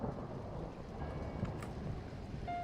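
Rumbling thunder from an approaching storm in The Cat Lady, a low continuous roll that holds steady throughout with no talking.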